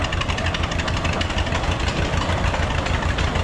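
Antique gasoline tractor engine from the Green family collection, fitted with a radiator and large cooling fan, running steadily in a steam power show parade in Sycamore, Illinois, a loud, continuous low chugging with rapid regular knocking and no pauses.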